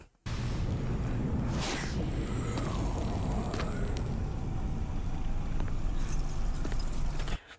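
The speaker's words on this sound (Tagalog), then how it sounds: "Ang dami niya palang susi." A large bunch of keys jangling in a horror short film, a continuous metallic rattling and clinking close by for several seconds over a low ambient rumble, no talk.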